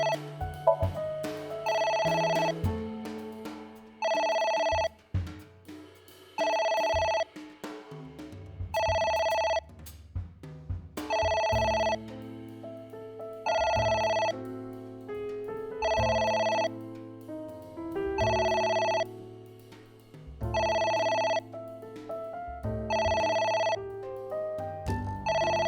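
A telephone ringing in the video game AI: The Somnium Files, a steady electronic ring repeating in regular bursts with short gaps, loud and alone over a low background music bed.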